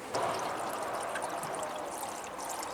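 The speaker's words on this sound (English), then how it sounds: "it's time to put in the coolant" Coolant poured into a car radiator during a radiator replacement, a steady continuous liquid pour and trickle running close and unbroken for the whole stretch, with no talking.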